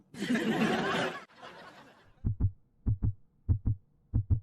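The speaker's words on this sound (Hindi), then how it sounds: "धड़कनें भी चल रही हैं, लेकिन धड़कनें कुछ ज्यादा जोर से चल रही हैं" A loud, fast heartbeat effect sounds as paired low thumps, four double beats in quick succession, following a burst of talk and laughter that fades out before the beats begin.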